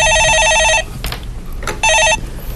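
Telephone bell ringing on a Korean stock-market call-in show, two loud electronic ring bursts separated by a short pause with faint background noise between them.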